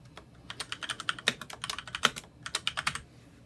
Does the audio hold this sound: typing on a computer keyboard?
yes